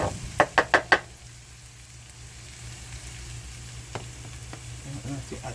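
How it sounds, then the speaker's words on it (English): Macaroni fries in a hot pan for Jamaican rasta pasta: four quick knocks open, then a soft, steady sizzle continues, broken by a few light clinks near the end. "I'm gonna heat up this for a minute, and then I'm gonna add my macaroni"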